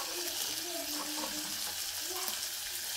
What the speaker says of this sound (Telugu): చూసారు కదా, ఇక్కడ ఆయిల్ కూడా మంచిగా వేడి అవుతుంది.